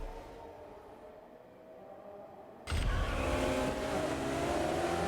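Cars race in the video game Solar Crown, with Ferraris and Lamborghinis among them. A quiet lull gives way to a sudden loud surge of revving engines, and the roar holds steady as the race gets under way.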